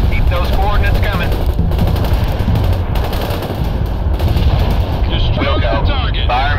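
Dense artillery and gunfire in the video game World in Conflict: continuous loud rattling machine-gun bursts and booming shell impacts, with radio-style voices talking over the barrage.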